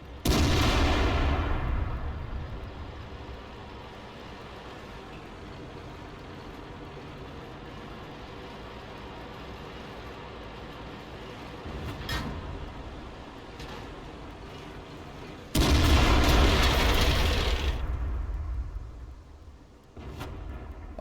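Tank cannon blasts in a tank battle video game featuring the T92 HMC artillery, heard as two loud booming shots with long rumbling tails, separated by a steady engine drone and fainter distant impacts.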